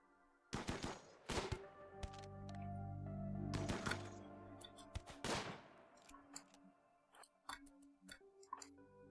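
Gunfire from colonists in a RimWorld-style colony sim set in an extreme desert, with several loud, close shots spaced a second or two apart, then a quicker scatter of smaller cracks and ticks.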